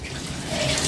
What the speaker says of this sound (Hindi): इनमें मैं पानी दे देती हूँ